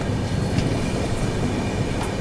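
The Paschim Express (Mumbai–Amritsar) rolls toward Mathura Junction, giving a steady, close rumble of wheels and carriage noise with faint rhythmic clicks, loud and continuous with no talk.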